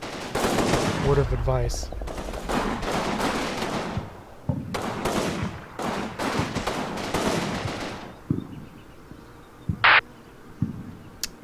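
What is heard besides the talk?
gunfire from the video game Combat Mission: Fortress Italy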